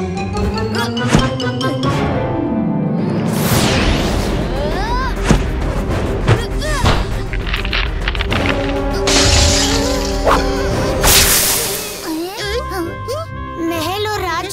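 A magic mirror shatters in a cartoon, with bright tinkling glass, crashes and booming effects over excited speech and music.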